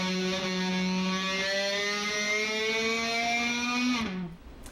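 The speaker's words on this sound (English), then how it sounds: "use a bow, like you'd use on a violin or a cello" An electric guitar's low E string, fretted at the 14th fret F sharp, is bent upward slowly while bowed like a cello, producing a sustained, loud, distorted roaring drone that rises slightly in pitch before cutting off abruptly.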